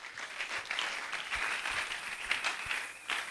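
A church congregation applauds together in a steady, dense wash of clapping that holds at an even level throughout, with no voices standing out.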